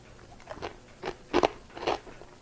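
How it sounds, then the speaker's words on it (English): Homemade sourdough crackers bitten and chewed up close, four distinct crisp crunches spaced about half a second apart, the third loudest, with no talking. "You can definitely taste the sourdough in there because it's a little bit sour, but nice crunch"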